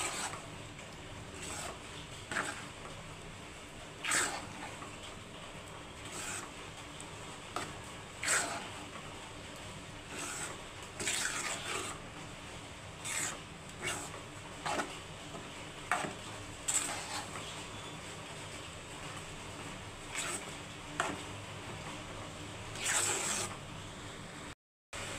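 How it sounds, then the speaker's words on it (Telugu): Ragi flour upma being stirred continuously in a pan until it thickens, a steady run of scraping spoon strokes with light sizzling underneath, repeated at an irregular rhythm for the whole stretch, close and fairly loud, with no voices. "దగ్గర పడే వరకు కలుపుతూ ఉండాలి"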